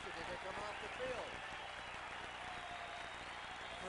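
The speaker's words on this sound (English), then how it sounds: "the crowd again will give the Cincinnati defense a standing ovation as they come off the field" A 1980 stadium crowd at a Tampa Bay Buccaneers vs Cincinnati Bengals football game applauds and cheers the Cincinnati defense in a standing ovation, a dense, steady roar of clapping and voices, heard at a distance.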